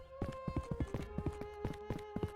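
Horse hooves gallop in a steady, rhythmic clip-clop in the Elder Scrolls 2 video game, about a dozen close, distinct beats over a sustained tonal music drone.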